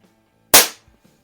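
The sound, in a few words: Barra Schofield 7-inch chrome CO2 BB revolver firing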